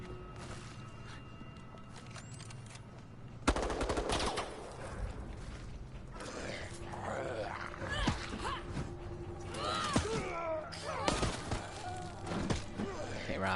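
Gunfire rattles in the online horror game Resident Evil Resistance, with a sharp loud burst followed by scattered shots and impacts amid other game noises, some fairly close.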